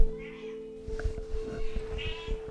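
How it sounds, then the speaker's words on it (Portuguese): A pet cat meows twice, close and clear, short calls spaced about a second apart over a steady low hum, with a faint voice murmuring in the background. "Minha gata quer opinar aqui, ó. Ela nem leu e ela quer opinar."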